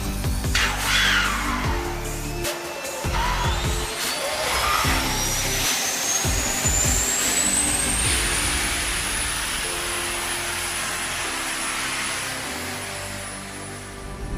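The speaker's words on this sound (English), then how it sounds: "Once the pilot is in the seat, he's going to fire off the APU" An aircraft auxiliary power unit spooling up at Joint Base Langley-Eustis, a turbine whine rising steadily in pitch over several seconds before settling into a loud, steady high-pitched drone, with some clunks and rumble underneath.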